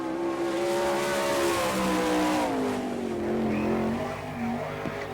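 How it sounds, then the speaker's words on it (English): A race car with a strongly revving engine, car number 5, runs a qualifying lap at the All Star Circuit of Champions Winternationals in Gibsonton, Florida. It sounds loud and steady, its engine pitch rising and falling through the corners. "On the track is car number 5, Byron Reed."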